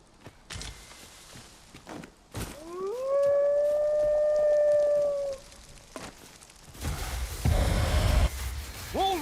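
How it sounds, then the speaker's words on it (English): A long, rising wolf howl from the video game Dragon's Dogma 2 swells and holds for a few seconds amid footsteps and ambient game noise, followed by a second shorter howl rising near the end. "Wolves draw near!"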